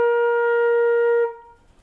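A flute holds a single steady B flat, clear and sustained for just over a second before it stops, with a short quiet tail after it.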